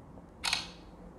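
A single crisp shutter click from a Tecno Spark 6 Go phone camera, short and close, in an otherwise quiet room.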